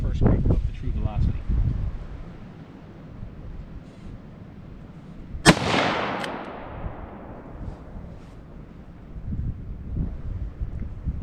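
A single sharp rifle shot from an AR-style rifle firing TrueVelocity 5.56 ammunition outdoors, loud and close, with a long rolling echo trailing off, wind rumble and a few faint handling noises around it.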